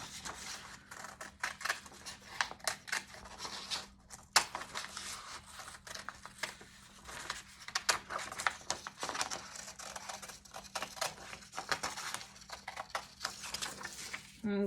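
Scissors cut through paper in a long run of quiet, irregular snips and rustles, close by, with occasional louder crisp cuts and a soft voice at times.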